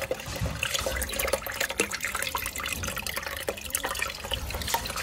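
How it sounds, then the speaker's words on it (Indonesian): Fresh water pours steadily into a container used for keeping water fleas, a continuous close splashing and trickling with no voices. "Ini kita tuang ke air yang baru"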